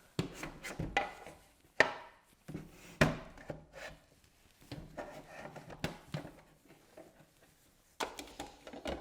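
Dry kibble from a PETLIBRO 6-liter automatic cat feeder rattles and clatters into the bowl in a series of short bursts and sharp clicks, fairly close, with no talking.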